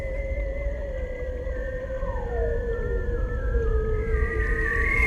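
Bearded seals in Arctic sea ice waters vocalize underwater, long drawn-out descending and wavering trills overlapping one another above a low rumbling background, clear and sustained.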